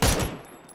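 A short, sharp burst of gunfire in PUBG, a loud crack that fades quickly into a brief tail.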